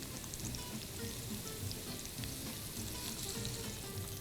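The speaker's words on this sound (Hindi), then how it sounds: "मैं डालूंगी इसमें थोड़ा सा कुकिंग ऑयल। प्याज को करेंगे फ्राई।" Onions fry in cooking oil in a pan for a Pakistani arvi gosht salan, a steady close crackling sizzle with soft stirring and no talking.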